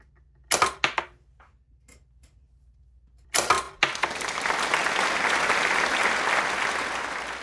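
Black and white marble dice tumble out of a dice coffin onto carpet in a few quick, close clattering taps, then a second brief rattle, followed by a steady broad hiss.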